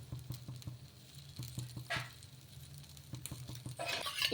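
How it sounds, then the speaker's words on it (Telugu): Dosa batter spread on a hot pan sizzles softly, a faint crackling patter with light irregular taps and a brief brighter hiss near the end, close and quiet. "ఇలా స్ప్రెడ్ చేసేసుకొని కాల్చుకోవాలి."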